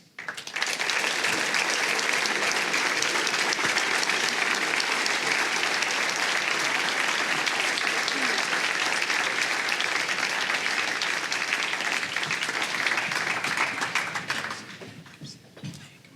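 Steady, loud audience applause at a Portland mayoral debate breakfast hosted by a chamber of commerce welcomes the candidates, sustained for about fourteen seconds before fading out.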